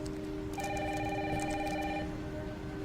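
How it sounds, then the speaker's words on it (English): Telephone ringing in a game trailer, one sustained electronic trill starting and stopping in a quiet room, with a steady low hum underneath. "Mom, phone."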